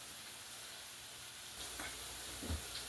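Potatoes frying in a pan alongside smoked sausage, a soft steady sizzle with a few stirring scrapes and clinks of a utensil near the end, quiet and close with no talk.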